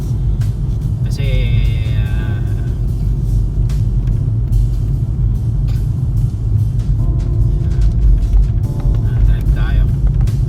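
A car drives on a winter road in Canada, heard from inside as a continuous low road and engine rumble, with occasional higher tones and a person talking throughout.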